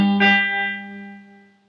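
A guitar barre chord fretted at the third fret of the low E string, struck once with a bright attack, then ringing and slowly fading out alone.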